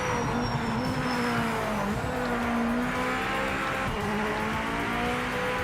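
Race car engine in the Project Motor Racing video game, a loud, steady high-revving drone with pitch rising and dipping through gear changes, continuous throughout with no talking.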